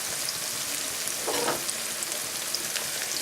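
Five cloves of coarsely chopped garlic frying in a pan with softened onions for braised lamb shanks, a steady close sizzle that swells briefly midway, with no talking.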